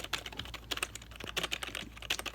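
Quiet, close typing on the keys of a Logitech MK250 keyboard: a steady patter of soft, rapid keystrokes with no voices.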